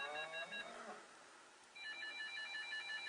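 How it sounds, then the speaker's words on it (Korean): A telephone rings in two electronic bursts with a brief gap between, heard faintly in a quiet indoor room. "전화기까지 또 방해를 하네요."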